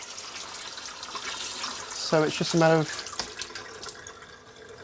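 Tap water runs steadily into a home birth pool to warm it, a continuous soft splashing wash throughout, with people talking over it in the room.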